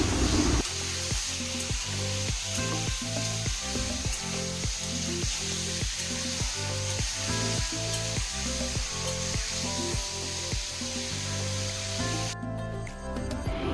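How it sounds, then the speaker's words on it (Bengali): Steady, loud sizzle of potatoes and drumstick stems frying in oil with dried red chili tempering, a continuous hiss close by with a faint rhythmic stirring pulse underneath. "শুকনো লঙ্কা ফোড়ন দিয়ে একটু আলুগুলোকেও ভেজে নেব"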